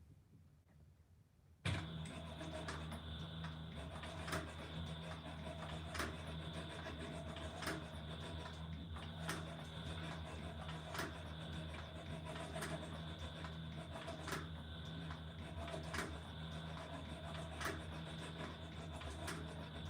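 A brushless servo motor with a speed reducer drives a leather sewing machine, starting up abruptly and then running at a steady hum with regular clicking stitch beats, close and continuous with no talking.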